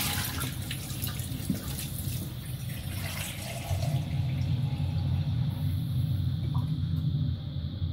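Warm tap water runs steadily into a kitchen sink or bowl while making focaccia dough, a close, continuous rushing gush that grows slightly fuller partway through, with no talking.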